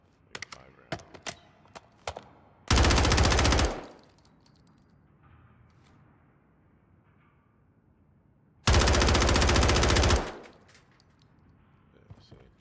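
Gunfire in the Warzone video game: two long, loud bursts of automatic fire, each a second or more, separated by a quiet gap, with a few sharp single shots and clicks leading in.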